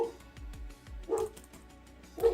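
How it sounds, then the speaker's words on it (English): A dog barks from a distance in a few spaced bursts, faint and muffled behind steady low background sound, with soft thumps in between. "You guys hear the dog barking?"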